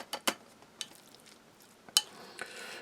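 A spoon stirs a 250 gram portion of a Russian army combat ration in its container, making sharp scattered clinks and scrapes with quiet gaps, close and fairly faint, with no talk.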